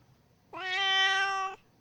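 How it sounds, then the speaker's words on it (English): A kitten in the visual novel game Piofiore: Fated Memories gives a single clear, sustained meow lasting about a second, close and isolated against a quiet background. "What a darling kitten."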